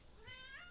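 A pet cat meows once indoors, a faint, drawn-out rising and falling call lasting under a second, over a soft background hiss.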